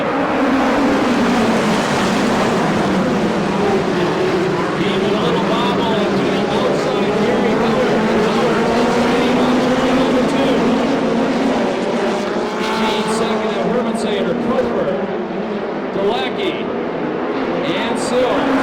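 USAC Western States Midget race cars roar around Perris Auto Speedway, a loud continuous pack of engines rising and falling as the cars pass, with a voice talking over the noise.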